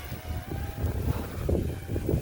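Strong outdoor wind buffets the microphone near a small camera drone being flown in gusty conditions, a steady low rumbling roar with surging gusts and no voices.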